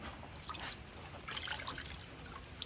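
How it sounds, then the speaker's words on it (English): Pickling solution trickling and dripping from a red fox fur as it is wrung out, a faint, close, continuous watery dribble with a few small splashes. "we'll kind of wring him out in this pickling solution"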